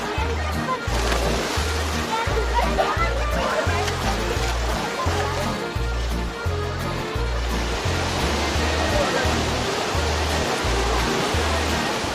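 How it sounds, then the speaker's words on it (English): The Eisbach wave in Munich's English Garden, white water rushing out from under a bridge, a loud continuous roar and slosh of surging water close by, with a rhythmic low thumping pulse beneath it. "It's called the Eisbach wave, and it is a little portion of white water that comes rushing from the bridge."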